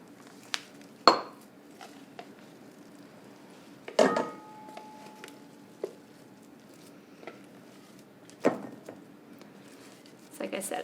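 Thick mixture scraped out of a blender into a bowl while making a Valentine's Day recipe: scattered clinks, knocks and scrapes at irregular intervals, a few sharper taps standing out over a quiet room.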